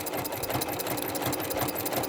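A sewing machine runs continuously while stitching fabric for a log cabin mug rug, a rapid, steady mechanical chatter, close and loud throughout.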